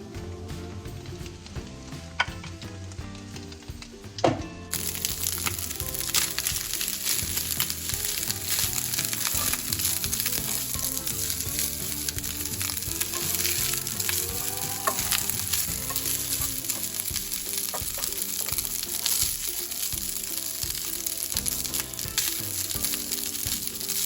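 Cooked rice stir-fried in a hot oiled pan for egg fried rice, giving a loud, continuous crackling sizzle with frequent scraping and stirring clatter. The frying runs alone with no talk, after an abrupt change in sound near the start.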